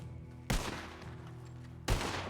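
Two sharp, loud gunshots from a RedM roleplay game, about a second and a half apart, each with a short burst of reverberant tail over a steady low background hum.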